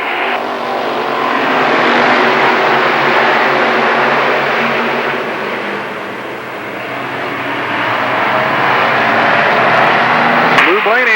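Modified race cars roar out of corner four at Lernerville Speedway in 1994, a dense, loud, steady engine drone that swells, dips and builds again, with an announcer talking over it.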